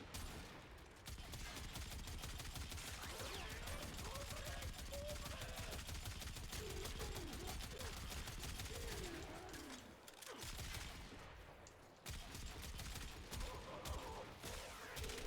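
Kuva Quartak rifle firing in Warframe during a Simulacrum test, a loud continuous stream of rapid automatic shots with a brief pause near the ten-second mark before the fire resumes, with faint talk beneath.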